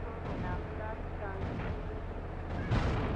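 Turret fire from a vehicle in Grand Theft Auto Vice City sounds as a dense run of booming shots over a constant low engine rumble, ending in a heavier blast, with a voice talking faintly underneath.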